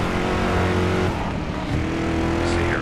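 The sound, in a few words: 1973 Mustang Mach 1 engine accelerating in video game Driver San Francisco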